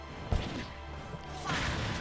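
Forward smash attacks land in a fighting video game, a sharp whack at the start followed by swooshing hits and a louder burst of impact sound near the end.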